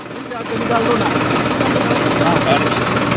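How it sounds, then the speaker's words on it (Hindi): Tractors roll through a farmers' tractor rally in the market at Gharaunda, their engines giving a loud, continuous, rumbling drone that holds steady throughout. "हम आपको दिखा दें कि ट्रैक्टर किस तरह से चल रहे हैं"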